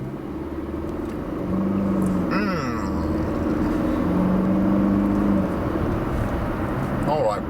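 A car cruising along a village road at night, its steady low engine and tyre rumble continuous throughout, with someone talking over it as it eases off speed.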